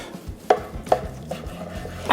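A knife cuts through smoked 45-day dry-aged brisket on a board, three or four distinct crisp strokes spaced about half a second apart, close and fairly quiet, with no talking.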